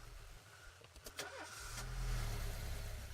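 An old car engine cranks with a few short clicks and turns, then catches and settles into a loud, low, steady running rumble; set in the police-management game This is the Police.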